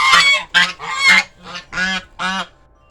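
Several noisy crows give loud, harsh, nasal calls in a rapid series of about six bursts, close by and alone with no talk.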